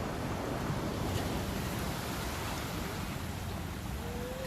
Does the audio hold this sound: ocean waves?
yes